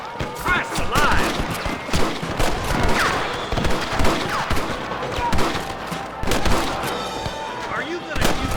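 Dense gunfire from a shootout with rustlers in the video game Red Dead Redemption: rapid overlapping rifle and pistol shots crackle throughout, loud and close, with game voices shouting in between.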